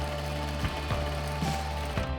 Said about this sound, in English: Take it to the sewing machine, and we're going to stitch around here and all the way around 1/4 inch.